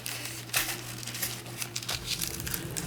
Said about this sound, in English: I'm going to be sticking this down with washi tape in my notebook, like so.